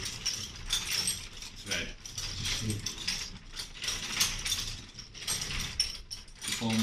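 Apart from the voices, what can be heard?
braiding machine running at industrial museum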